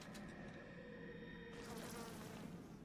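A swarm of bees buzzes in the video game Bioshock Remastered, a faint, continuous insect drone with a steady hum that swells slightly partway through, no talk over it.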